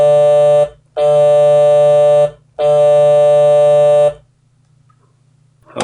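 Virtual Stylophone from a Kontakt sample library sounding a D note: three sustained buzzy electronic tones, each over a second long with short gaps between, loud and clear with no other sound.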